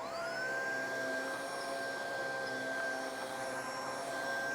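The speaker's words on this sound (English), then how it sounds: "I'm going to bring my vacuum out. I'm going to turn it on" A Riccar R27 cordless vacuum cleaner runs steadily on carpet, a constant loud motor whine with a high pitch that rises and settles in the first half second, then holds even and unbroken.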